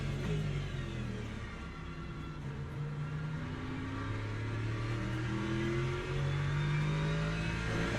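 A Ferrari race car engine in Le Mans Ultimate at Daytona howls up through the gears, its pitch climbing in repeated sweeps as it accelerates, loud and steady with no talking over it.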